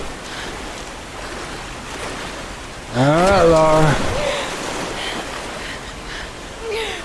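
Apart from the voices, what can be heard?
rushing river rapids in the video game Tomb Raider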